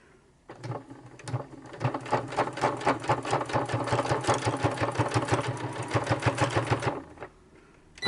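A sewing machine runs steadily, stitching a fabric cover for a junk journal: a fast, even mechanical chatter that starts after a brief pause, holds for about six seconds close up, then stops.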